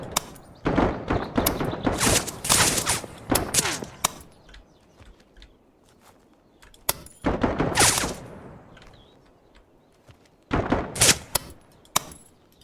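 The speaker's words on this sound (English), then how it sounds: "I should get better at using this weapon to shoot guys." Bursts of automatic gunfire from a weapon in the shooter game Dagger Directive, rapid loud volleys in several separate clusters with quiet gaps between them.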